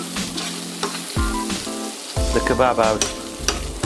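Doner kebab meat fries in a pan with crisping edges, a close, bright sizzle and crackle broken by spatula scrapes and clanks, with a short spoken phrase heard over it.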